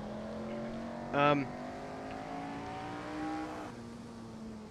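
A car engine in the Assetto Corsa racing game hums steadily in third gear, with a short burst of talk over it partway through and a small change in engine note near the end.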